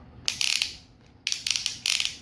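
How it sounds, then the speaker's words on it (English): Ratchet joints on a Tobot Cyclon Hawk transforming robot toy click in quick, crisp bursts of several notches each, three separate clusters close to the listener with brief pauses between. "Have the nice ratchet at the hips."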